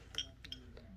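Small Czech glass elephant beads clinking together as they are handled, a few light, bright taps over a brief quiet moment, ending in a sharper click.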